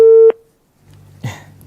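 A telephone line drops during a live call-in broadcast, leaving one loud steady busy tone that cuts off abruptly, followed by faint low hum and a soft noise.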